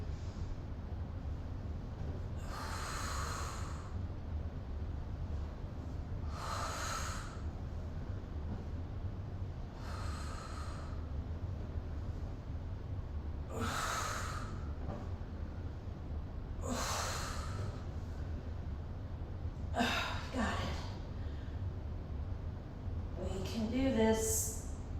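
Sharp, forceful breaths huffed out during an ab workout come close to the mic, one roughly every three to four seconds, over a steady low hum.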